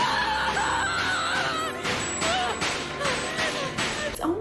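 Riza Hawkeye, a calm, collected woman in the anime Fullmetal Alchemist Brotherhood, breaking down in frantic, wavering screams and wails, several cries rising and falling over a busy background.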